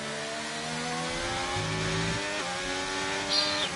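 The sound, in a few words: racing car engine in a sim race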